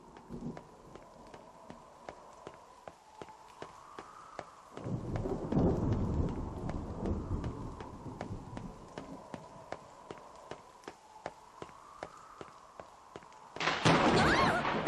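Thunder in the video game NieR Reincarnation: a muffled rumbling boom rolls in partway through, then a sharper crack near the end, over quiet rain and a steady series of soft clicking footsteps.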